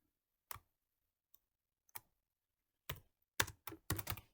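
Keys clack on a computer keyboard in sparse, isolated taps at first, then a quicker burst of typing, close and alone with no talk.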